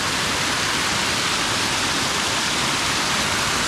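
Muddy water pours from a pipe into a pond, a dense, steady rushing splash that stays close and unchanging throughout, with no voices.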